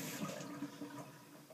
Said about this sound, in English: you turn your faucet as to where it's not over the Kool-Aid, and you rinse it off